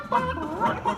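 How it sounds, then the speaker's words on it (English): Muppet Show chorus of chickens clucking: a quick run of three or four loud, close clucks in a bouncy rhythm, heard on their own. "Hey, Kermit, the all-chicken chorus is ready for their big number. The cluck heard round the world."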